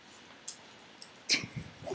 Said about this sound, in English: He'll start whining and just going crazy.